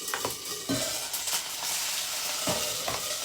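Green chili, mustard seeds and cumin sizzle steadily in hot oil, a continuous bright crackle with occasional stirring knocks against the pan.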